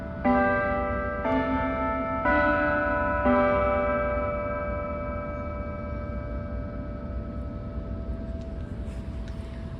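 Clock bells in a city square chime the half hour at 7:30, four ringing strikes spaced about a second apart with long overlapping tonal decay that fades slowly across the rest of the clip, loud and near under faint outdoor background.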